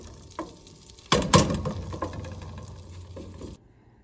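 Butter melts in a pan with a light sizzle and a few scrapes and clacks from stirring, close and fairly quiet, before it stops abruptly.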